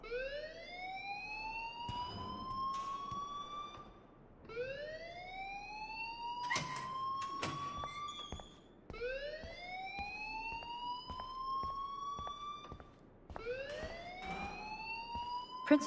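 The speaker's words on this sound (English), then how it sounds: "please turn off that alarm since that's your job" Four rising, wailing alarm sweeps repeat back to back at a school in the Life is Strange video game, loud and shrill, with brief clicks and clatter in the gaps between them.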